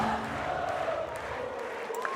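Crowd at a FIVB Beach Volleyball World Championship match between Brazil and Austria, cheering and shouting in a steady dense roar, with flags waving in the stands.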